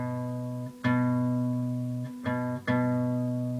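A guitar's A string fretted at the second fret with the index finger rings out three times, each pluck sharp and clear and then sustaining and slowly fading, with no talking.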